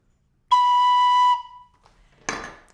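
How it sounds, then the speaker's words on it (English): A penny whistle sounds a single clear, steady B note held for just under a second, followed by a brief clattering knock. "The B is played on the penny whistle with one finger"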